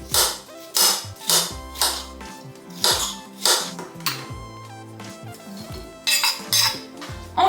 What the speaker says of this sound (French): Je vais juste le couper en petits morceaux et l'incorporer à ma sauce.